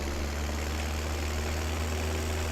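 A tractor engine idles in Farming Simulator 17, a steady low drone with a constant hum that runs evenly throughout at a modest level, and no one talks.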